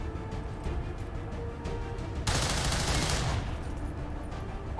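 Rapid bursts of gunfire from a squad firing in the XCOM 2 tactical battle at the lost tower, loud and dense, swelling into a sustained volley midway with no talk over it.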